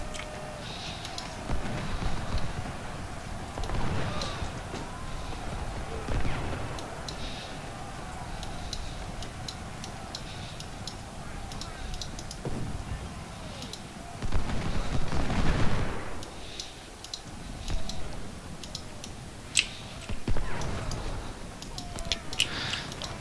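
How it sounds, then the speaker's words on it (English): Musket volleys crackle in a Battle of Bull Run strategy game, scattered popping shots and louder rolling bursts of massed fire rising and fading over a continuous battlefield din, distant to mid-range. "See if we can get a volley off."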